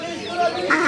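A duck at a market in Qatar gives a nasal quack or two, close and loud, mixed in with people talking.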